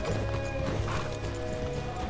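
Horses galloping in the Red Dead Redemption video game, a steady stream of clip-clop hoofbeats with a faint whinny, running continuously under a busy, dense game soundscape.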